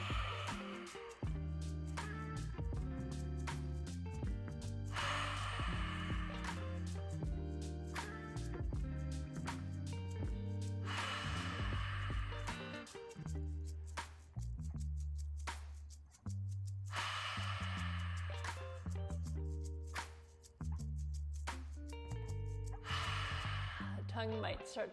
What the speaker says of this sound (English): The tongue is still out, breathing in and out powerfully.